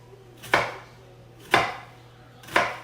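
A kitchen knife slices through cauliflower on a cutting board, three sharp, evenly spaced cuts about a second apart, close and crisp, with nobody talking.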